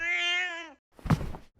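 A cat named Milo gives one clear, drawn-out meow up close, followed by a soft thump and shuffling noise.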